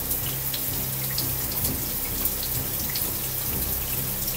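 Water streams steadily from a shower in a very small room, a continuous even hiss with scattered spatters and drips throughout, alone and without voices.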